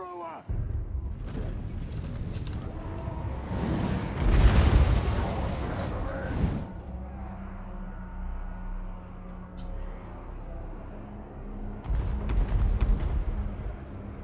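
Grudge thrower artillery in a fantasy strategy battle game lets off booming launches amid a dense din of battle, with a big swell near the middle and another burst toward the end over a steady rumbling background.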